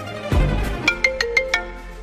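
A mobile phone ringtone chimes close by in a quick series of about five bright, evenly spaced tones, following a dull thump at the start.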